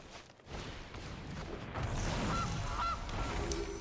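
A game goose honks twice in Magic Arena as the Gilded Goose card is played, the short, close, nasal honks sitting over a quiet layer of game sound.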